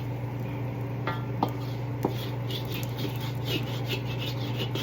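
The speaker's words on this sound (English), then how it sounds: "Get that all scratched out." Metal spatula scraping fried rice and egg off the bottom of a pan, repeated rasping strokes and a few sharp clinks over a steady burner hum.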